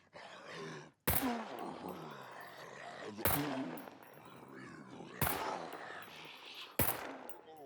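Four loud gunshots in the survival game SCUM, spaced about two seconds apart, each a sharp broadband crack cutting through a continuous background of game ambience and muffled voice-like sound.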